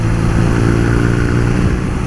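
A 2018 BMW R nineT Pure motorcycle cruises along the road, its engine droning steadily at a loud, close level with a low rumble under wind noise, no one talking.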